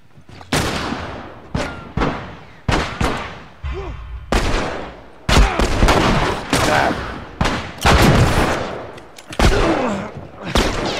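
Gunfire in The Last of Us video game: a series of sharp, loud shots and bursts cracks at irregular intervals, repeated blasts with ringing tails filling the stretch.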